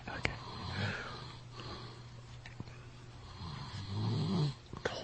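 A man asleep on his back snores in slow, rasping breaths, close and fairly quiet, with soft sniffs and wheezy snorts between them.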